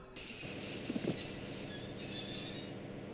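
A train in the Broken Sword video game grinds to a halt after someone pulls the emergency cord. Loud, continuous wheel squeal with high screeching tones runs over a rumbling rail noise for a few seconds.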